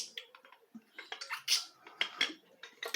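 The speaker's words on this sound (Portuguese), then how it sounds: "Gente, eu preciso tomar um pouquinho de água" Water is poured and then sipped from a glass, a splashy trickle followed by gulps, clinks and mouth sounds in short bursts, close and soft, with no speech.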